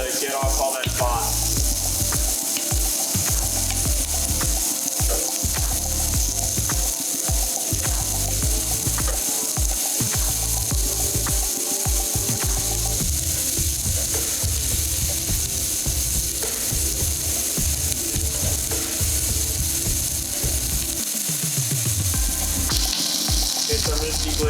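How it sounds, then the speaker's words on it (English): Diced mirepoix vegetables frying in a hot pan over browned fond, giving a loud, continuous sizzle with rapid clattering and scraping from stirring throughout, and no voices. "So I'm going to add in our mirepoix."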